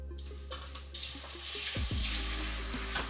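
Frozen broccoli sizzles in a pan with sesame oil and sauce over medium-high heat for homemade Chinese chicken and broccoli, a loud hissing fry that swells after a few clatters and stirs.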